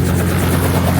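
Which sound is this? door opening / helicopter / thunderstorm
helicopter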